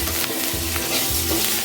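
Curry leaves sautéing in a pan for a chutney, a steady close sizzle and frying crackle with a few stirring scrapes, no voices.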